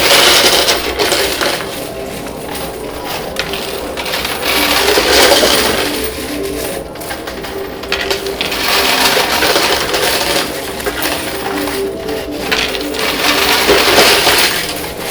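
Coins cascading and clattering continuously in a high limit coin pusher arcade machine, loud, dense metallic jingling and crashing with no pauses.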